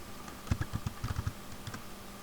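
Company code being keyed into accounting software on a computer keyboard, a quick burst of close, clicky keystrokes followed by a few scattered presses, with a faint steady hum underneath.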